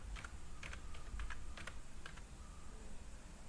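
Laptop keys tapped in short bursts while typing a word into a Word document, light clicks clustered in quick groups with brief pauses between, steady and alone under a low background hum.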